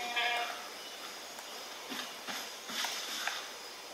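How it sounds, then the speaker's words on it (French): A goat bleats a few times in the Far Cry video game, its cries fairly faint over steady game ambience, with a harsher bleat early on and softer ones after. "C'était quoi ça, une chèvre?"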